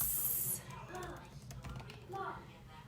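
Computer keyboard typing, a run of short light clicks in quick bursts, fairly close and soft, with faint voices murmuring in the background.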